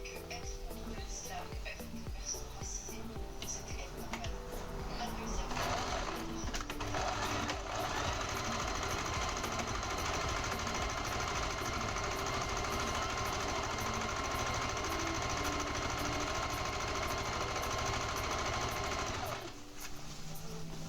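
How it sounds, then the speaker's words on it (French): A sewing machine stitches fabric during cosplay sewing, running in a steady, continuous mechanical chatter for most of the stretch with a brief pause near the end, heard under background talk. "voir une meuf coudre à la machine à coudre"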